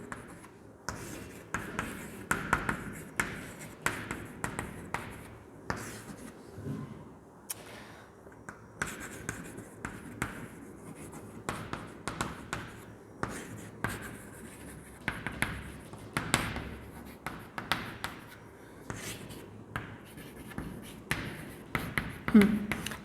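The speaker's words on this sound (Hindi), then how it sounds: "चलो मैं यहाँ पर फटाफट लिख देती हूँ" A teacher writes quickly on a board in a zoology class, making rapid repeated scratchy strokes and taps in short bursts with brief pauses, close and clear, with occasional faint speech between strokes.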